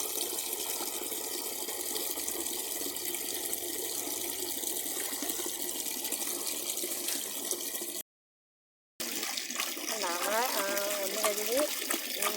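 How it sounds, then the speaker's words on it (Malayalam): Water runs and splashes from a tap as sardines are washed by hand in a kitchen sink, a steady close trickling hiss broken by a brief silent gap, with faint voices under the flow. "ഒന്ന് കഴുകി ഇങ്ങനെ കഴുകുകയാണ്."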